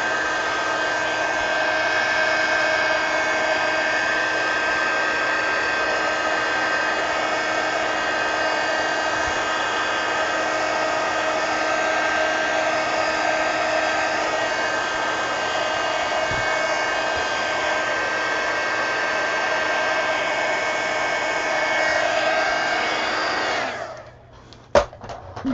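A hair dryer blows on the edges of a mixed media canvas, a loud, steady whirring rush that runs unbroken for over twenty seconds before cutting off with a click near the end.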